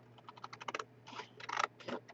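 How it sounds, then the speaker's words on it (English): Scissors snipping through paper along a perforation, a quick run of crisp close cuts followed by a few longer slicing bursts, with no talk. "I want to just cut that off of there. I want to cut. Okay, here, scissors for cutting."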